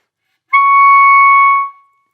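A single sustained clarinet note, high D sharp played with an alternate fingering using the E flat key, held steady and clean for about a second before tapering off, close and unaccompanied.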